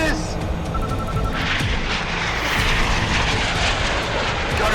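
A fighter aircraft engine roars steadily and loud through a film dogfight, with booms and gunfire-like bursts mixed in and voices shouting over the din.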